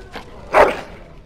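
A dog in the game Dragon Age Origins gives one loud, close bark, preceded by a fainter yip, with quiet ambience around it.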